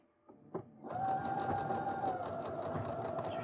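A home sewing machine stitches fabric for a top. A few light clicks come first, then a rapid, steady mechanical whir that runs close and evenly to the end.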